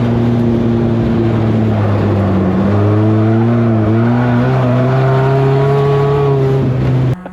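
A cheap track-ready race car drives hard around a circuit, its engine note droning steadily and rising through repeated gear changes, loud and close for about seven seconds.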